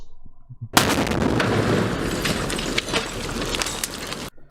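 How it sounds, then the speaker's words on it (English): A video game grenade goes off with a sudden loud blast, then a sustained crackling rumble lasting about three and a half seconds before cutting off abruptly. "Throw that nade, Trent."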